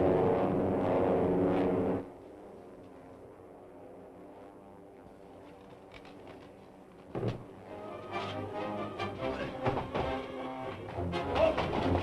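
A propeller airplane comes in to land in a radio drama: a loud engine drone cuts off to a low idle hum, then a thump and rising rumble as it touches down and rolls, with no talk.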